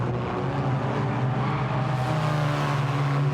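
Diesel Mazda race cars in a racing game at Laguna Seca, engines droning loudly and steadily at high revs with a slight pitch rise partway through, no voices over them.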